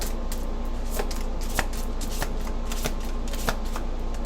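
Large tarot cards are shuffled by hand in a steady run of soft riffling slaps and flicks, close and fairly quiet, with no talk.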